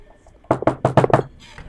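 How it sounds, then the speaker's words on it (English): Knuckles rap on wood in a quick cluster of about five close, sharp knocks, loud and alone, followed by a brief rustle. "I'm knocking on wood"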